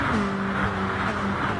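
A Mustang V8 Supercar in GT Sport drones down the straight at Bathurst, a steady loud engine note holding pitch with faint other cars around it.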